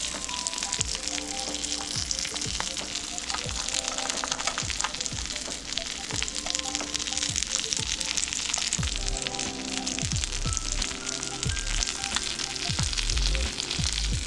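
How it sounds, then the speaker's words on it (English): Trout fries in olive oil in a pan over medium-high heat, giving a steady, continuous sizzle with crackling pops throughout and some scraping or stirring near the end. "Now you're gonna wanna cook this trout one side at a time. You wanna cook it on a little medium-high heat."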